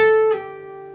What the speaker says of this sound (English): You're going to pick the G string one time and pull off to the 12th fret.